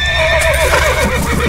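Horses whinny and neigh on a movie soundtrack, close and loud over a steady low rumble, with faint hoof clatter; the horses are spooked and balking at going farther along a road.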